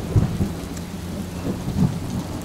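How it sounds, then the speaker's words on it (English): Storm sound effect of thunder and rain, steady rain hiss with low rumbling thumps of thunder, close and continuous. "The storm's getting worse."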